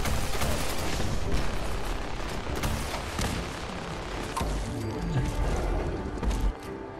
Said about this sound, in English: I'll use the AP launcher